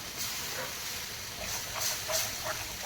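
Milk poured into a hot pan of roasted flour gives a continuous bubbling hiss with brief sharper sizzling flares, close and moderately loud, with no talking.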